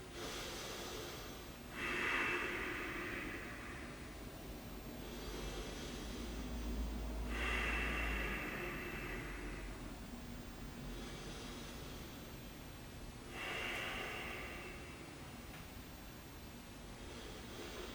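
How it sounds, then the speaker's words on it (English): Slow, steady breaths from a person sitting still during a pause in a beginner yoga session, three long airy exhalations about five seconds apart, close and quiet, with no talking. "we'll just sit here and breathe"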